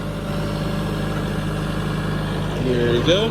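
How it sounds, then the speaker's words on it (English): A tractor in second gear at about 1500 RPM pulls a Brilliant seed drill planting buckwheat cover crop, a steady engine drone with a whining of gears and chains that rises near the end as someone speaks briefly. "That whining noises, you can hear the gears and chains"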